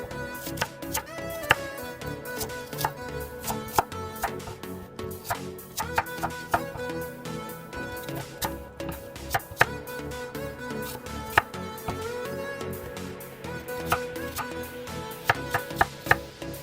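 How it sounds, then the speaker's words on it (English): Knife slicing apple into small cubes on a cutting board for homemade applesauce, with sharp, irregular chopping taps repeating over steady background music, no talking. "Slice it into small cubes."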